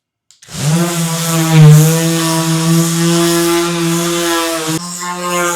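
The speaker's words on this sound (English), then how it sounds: "let me just give that another quick sand" A power sander running on a wooden coffee table top, a loud, close, steady motor whine that starts abruptly and holds an even pitch throughout, briefly shifting near the end, with no voices.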